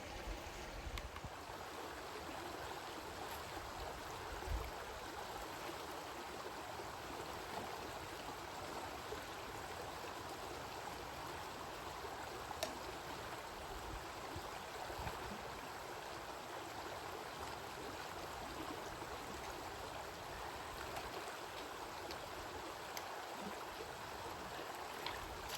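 A steady, even rush of stream water at an Appalachian Trail river crossing, a continuous close babble and hiss with no breaks and no speech.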